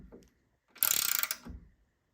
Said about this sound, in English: It's a ratchet.